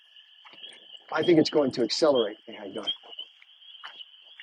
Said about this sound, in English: The frogs are going crazy in the pond over there.